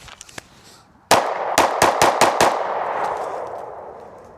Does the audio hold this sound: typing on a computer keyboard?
no